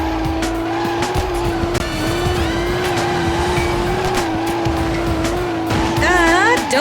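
A drifting car in the PS2 game Professional Drift: D1 Grand Prix Series, with a steady loud engine drone, repeated tire squeals and skidding, and a rising squeal near the end; a voice speaks briefly.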